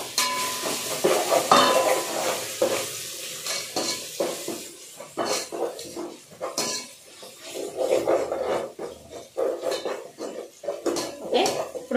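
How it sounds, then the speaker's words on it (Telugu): Mutton and ginger sizzle in a pan while being stirred for a Sunday biryani, with a metal spoon scraping and clanking against the pan in irregular bursts over a steady frying hiss, close and fairly loud. "అల్లం మటన్తో కలిపి వేగుతుంది."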